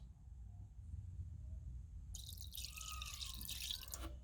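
Liquid cleaner poured to fill the bottom section of a container, a soft splashing pour that starts partway through after a quiet low hum and continues to the end.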